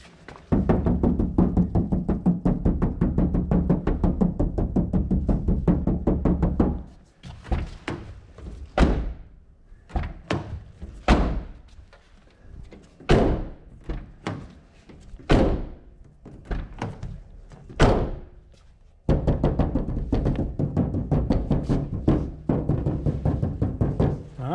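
An untreated car door without Dynamat sound deadening, knocked and shut repeatedly: a run of sharp, hollow thunks and slams spaced a second or two apart, loud and close, set between stretches of steady engine-like background noise.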